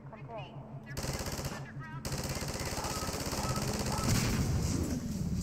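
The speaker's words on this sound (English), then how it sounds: "Just an energy weapon." Rapid, continuous bursts of energy weapon fire from a first-person shooter video game, loud and sustained with a steady mechanical rhythm, briefly pausing before resuming.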